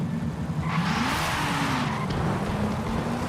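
Tuned Nissan retro race car in Forza Horizon 5 revving hard under acceleration, engine pitch climbing then dropping at quick upshifts through the low gears, with faint tire squeal, loud and continuous.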